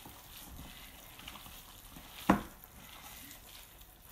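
Ground lamb sizzles and frys in a pot for shepherd's pie, a steady soft crackle with one sharp clunk of stirring partway through.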